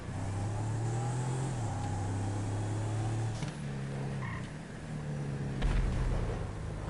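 A Hummer drives in Grand Theft Auto, its engine droning steadily with shifting pitch and a throaty rumble. A heavier thump comes near the end, all continuous and fairly close without speech.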